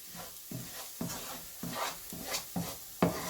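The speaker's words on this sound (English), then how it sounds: "So we're going to just do a bit more mixing" Skirlie is stirred in a pan as it finishes cooking, a steady rhythm of about two scraping strokes a second over a soft sizzle. The sound is close and clear, with no voices.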